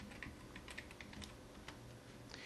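Quiet keystrokes on a computer keyboard tap out a short word in an irregular run of clicks, close by and fairly soft, with no voices.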